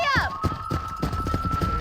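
Hoofbeats of a horse galloping in Red Dead Redemption, a rapid rhythmic clip-clop close by, mixed with game music and a brief voice.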